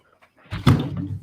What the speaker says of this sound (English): the cat is attacking the door